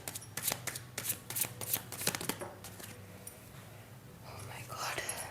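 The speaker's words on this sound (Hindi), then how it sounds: "हम कार्ड्स को अरेंज करेंगे" Tarot cards are shuffled and laid out by hand in a series of crisp, close riffling and slapping bursts, with soft whispered talk mixed in and a quieter rustling stretch toward the end.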